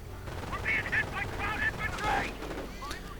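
Machine gun fire in a World War II strategy game battle with Panzers and riflemen: rapid bursts of gunfire mixed with other battle noise, moderately loud, with no one talking over it.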